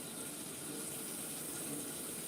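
Hot water poured into a pan on a home stove, a steady hissing, gushing stream throughout, moderately quiet, with no voices over it.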